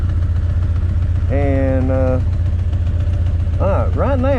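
A Honda CB 900 motorcycle engine idles at about 1,000 RPM, a steady loud low rumble throughout, close by, with someone speaking briefly over it.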